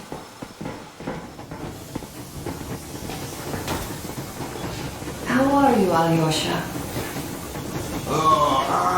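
A steam train from the video game Metro Exodus runs along at full steam with a constant low rumble and hiss. Voices talk over it, and a whistle-like tonal wail rises near the end.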